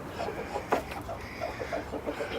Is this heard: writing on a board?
no